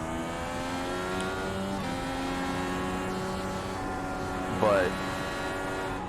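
IndyCar IR18 race car in iRacing, a high harmonic engine whine sweeping through revs with a quick downshift blip near the end, steady and prominent beneath a brief spoken word.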